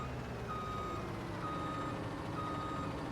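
A black large-capacity tipper truck in Farming Simulator 19 reverses with a steady series of evenly spaced reversing beeps over a low, constant engine drone.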